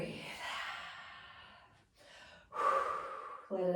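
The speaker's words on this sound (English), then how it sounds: "Breathe." Deep breaths drawn in and let out during a rest in a core workout, close and breathy, a long exhale, a brief pause, then a sharper, louder breath.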